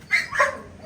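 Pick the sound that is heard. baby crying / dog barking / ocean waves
dog barking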